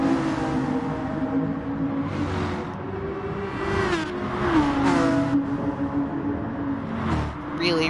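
Engines of GT3 race cars in a sim racing game at Alsace Village, a front-engine V12 Aston Martin and a mid-engine V10 Audi, drone continuously with rising and falling pitch as they accelerate and shift, while a commentator's voice runs over them.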